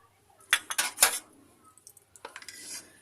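Chopped vegetables for momo filling, including capsicum, onion and chopped ginger-garlic, are mixed in a bowl with clattering utensil knocks, a dense burst of clinks early on, then softer scraping and tapping.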